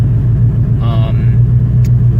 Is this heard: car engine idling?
yes